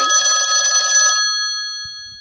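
A phone rings with a bright, trilling electronic bell for about a second, loud and close, then cuts off as the tone fades away.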